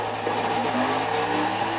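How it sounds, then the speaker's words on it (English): A stock car engine in NASCAR 2011: The Game drones in a steady, loud rev during an attempted burnout, holding a sustained buzzing pitch with slight wavering and no pauses. "See, I'm trying to do a burnout right now."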